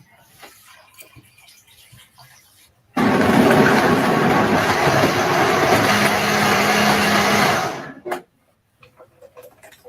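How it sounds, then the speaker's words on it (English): A blender roars loudly for about five seconds, a dense whirring burst that starts abruptly and cuts off, with quieter background noise before and after. "Is he putting all this shit in the blender?"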